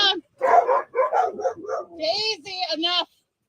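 Several dogs bark and yip close by in quick, overlapping bursts, rising into high-pitched yelps, mixed with a human voice.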